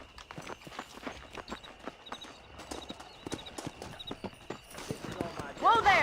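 Horse hooves clip-clop at a steady ride in Red Dead Redemption, a string of sharp, evenly spaced strikes under ongoing speech, with a louder burst and a rising whinny-like cry near the end.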